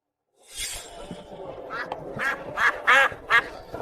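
Ducks for sale at a market quack loudly and close by, a rapid series of nasal honks over a busy background murmur.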